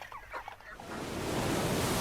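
A person vocally imitates a shy chicken cluck, a short run of soft clucking notes in the first second, followed by a steady rush of broadband noise like surf.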